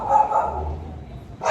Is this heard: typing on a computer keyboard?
no